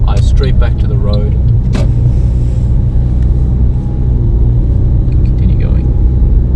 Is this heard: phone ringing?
no